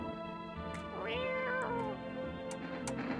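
A cat meows in a video game, one clear rising-and-falling meow in the middle with fainter mewing and small clicks around it, close and without talk.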